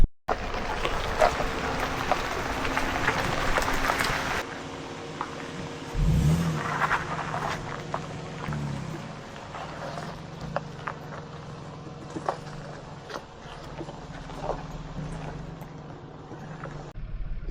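A car driving along a road, with steady engine and road rumble throughout and several low swells and short bumps along the way, heard from inside the vehicle with no talking.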